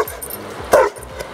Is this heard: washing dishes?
no